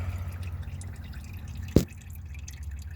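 Differential fluid draining from a 2015 Subaru WRX, a single sharp drip landing once midway over a steady low background hum.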